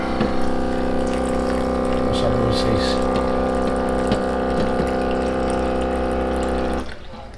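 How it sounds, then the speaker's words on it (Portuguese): Water running steadily from a tap onto oats before they go into the microwave: a continuous rushing hiss with a low hum beneath it, under a man's speech, cutting off just before the end. "Antes de botar no micro-ondas, eu boto um pouquinho de água."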